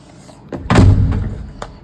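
Apartment front door swung shut, a single solid thud with a short rattling latch close by, with faint room noise around it.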